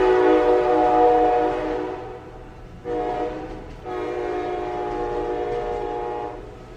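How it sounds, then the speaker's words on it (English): A train passes with a long, loud horn blast that breaks off briefly and then sounds again in a sustained second note, with rail rumble underneath, heard alone without speech. "the train is coming by"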